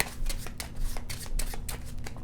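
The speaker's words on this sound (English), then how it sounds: "First, I'm going to take my Explore cards, give them a good shuffle." A deck of Cartographers: Heroes Explore cards is shuffled by hand, giving a quick series of crisp riffling bursts in an even rhythm, close and fairly loud, with no voices.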